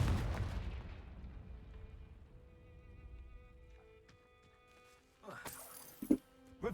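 In a Harry Potter video game, a Confringo blasting spell goes off as a loud booming explosion that decays into a long rumbling tail. Sharp clattering game effects and a voice follow.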